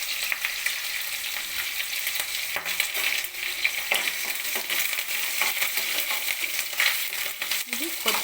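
Green chillies drop into hot oil already crackling with mustard seeds, and the pan sizzles and spits in a dense, steady hiss with scattered pops and stirring clinks throughout.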